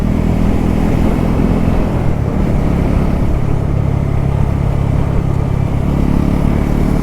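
An Alto car driving on a steep mountain road between Kargil and Leh in Ladakh, its engine and road rumble a loud, steady drone heard from inside with no one speaking.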